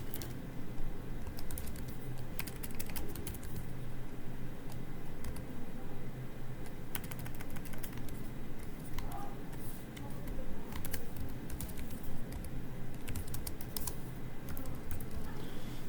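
Steady keyboard typing while writing C++ code, with quick irregular clicks and taps running near and continuous throughout, with no voice.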